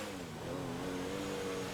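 A Mansory-modified Rolls-Royce in the GTA video game accelerates, its engine drone rising steadily in pitch and holding loud and continuous throughout, with no voices.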